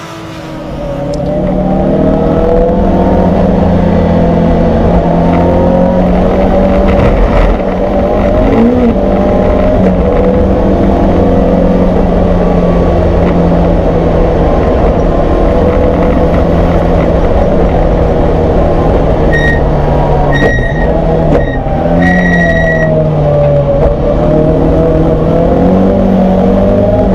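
Racing cars lapping Snetterton in the 750MC Alfa Romeo Championship, including a Lancia Delta and a Fiat Punto, produce a sustained loud engine drone with revving and passing cars throughout, with faint commentary beneath.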